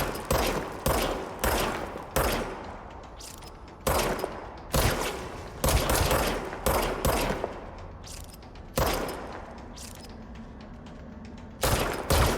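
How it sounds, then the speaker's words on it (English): Gunfire from a self-reassembling sidearm in the video game Control, with loud sharp shots in rapid bursts separated by short pauses and some mechanical clanks between them. "It looks like you can shoot faster as well."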